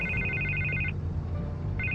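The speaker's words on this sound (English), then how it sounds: "I can't get the phone to stop ringing." A phone rings in Batman: The Telltale Series with a repeating electronic trill that stops midway and starts again near the end, heard alone over a low steady background hum.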